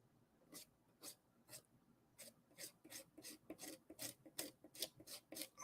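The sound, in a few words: scraping paint off a painting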